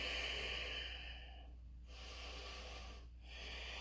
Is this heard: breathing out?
yes